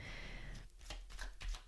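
Deck of tarot cards being shuffled, a brief burst of riffling and soft slapping cards close by, fairly quiet.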